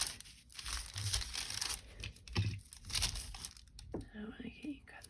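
Strips of faux vintage craft tape torn and peeled, producing close crinkling and ripping bursts, with soft speech heard in between.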